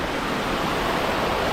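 Steady rushing water pours fast and loud down a steep built channel at the old Cijambe hydroelectric plant, a dense continuous roar with no break and no voices.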